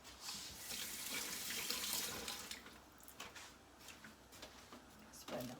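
A kitchen tap runs for a quick wash while cooking spinach and feta rugalah, a steady close splash that breaks into uneven bursts and trickles as hands move under the stream.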